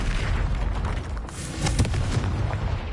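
Confringo blasting spell explosion in the Hogwarts Legacy video game, a loud booming blast and crackle within dense, sustained game combat noise lasting the whole moment.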